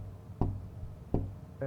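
Two distinct knocks on the mayor's office door, spaced under a second apart, fairly soft and close against a quiet room.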